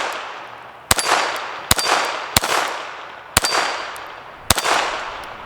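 An FN 502 Tactical .22 LR pistol fires five sharp shots at a steel hostage popper target, each crack followed at once by a ringing metallic clang, spaced irregularly about a second apart.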